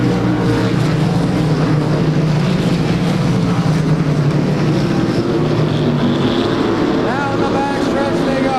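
Race cars roar around Claremont Speedway in weekly racing, a loud, steady engine drone that fills the whole stretch, with a race announcer talking over the noise.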